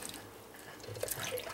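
Cultured butter being squished and rinsed in a bowl of water, giving soft, close wet squelches and light drips that grow a little busier toward the end, with no talking.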